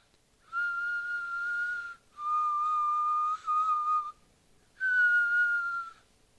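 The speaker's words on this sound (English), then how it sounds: "Delaware whistles." A person whistles a steady, clear tune in three sustained phrases separated by short pauses, close and alone with no talk.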